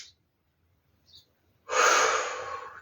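One sharp, breathy inhale during a chair-and-band stretching routine, close and fairly loud, rushing in after near-silence and then tapering off slowly.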